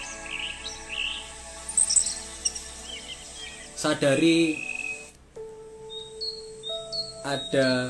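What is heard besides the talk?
birds chirping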